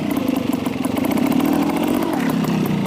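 A motorcycle engine revs loud and close as the clutch is popped for a nose wheelie, a throbbing mid-pitched drone that rises and holds steady.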